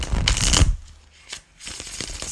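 Tarot cards are shuffled for a full moon reading in a couple of quick riffling bursts, with a short pause between them. The sound is close and crisp, with no talk over it.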